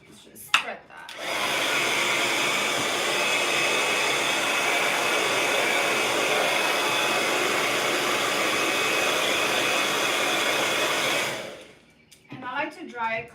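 A hair dryer blows steadily on a freshly prepped canvas, a loud continuous whoosh running about ten seconds before switching off, with brief handling noises and faint movement at start and end.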